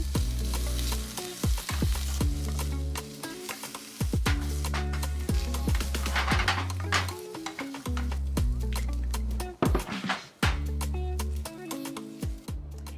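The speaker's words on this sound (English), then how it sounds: "I'm going to cook part of the vegetables" Vegetables sizzle and fry in a pan while a utensil stirs them, sending repeated scraping and clattering strokes over a steady crackle that runs throughout, close and fairly loud.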